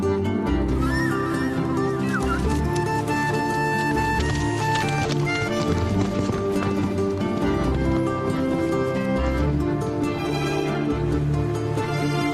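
Hooves of El Loco, a horse on a mountain expedition in Peru, clip-clopping steadily beneath continuous loud music.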